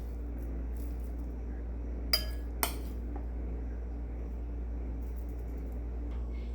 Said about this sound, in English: Let's add our scoops of ice cream.